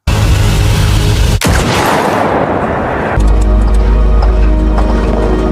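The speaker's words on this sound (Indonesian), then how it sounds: "Jennifer yang keburu sadar mencoba menembak Adrian dari jarak jauh." A long-range sniper rifle shot in a film, a sharp loud crack followed by a heavy booming rumble, set within a loud continuous score and sound effects.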